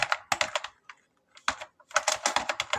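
Close, crisp keystrokes on a computer keyboard while building an invoice in Excel, coming in quick bursts with a short pause in the middle and no talking.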